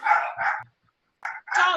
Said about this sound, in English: dog alert.